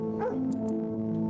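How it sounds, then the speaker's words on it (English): A game dog named Ray, from a visual novel, gives a short bark or yip over sustained background music; the bark is brief and mid-loud. "Ray barks, seemingly trying to help you convince the demon of your sincerity"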